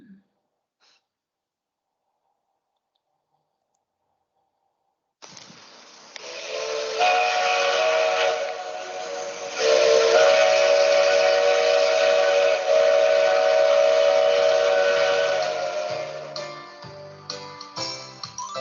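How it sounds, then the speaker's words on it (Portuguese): A steam train lets out a long, loud whistle blast mixed with hissing steam, starting after several seconds of silence and holding steadily before breaking into choppy puffs near the end. "Fumaça, o trem solta fumaça."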